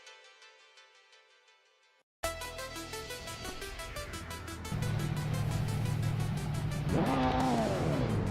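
Race cars in a video game launch at the start of a race at Dubai International, one a 1997 Volvo S40, with engines roaring up loudly and steadily, a higher whining rev climbing near the end.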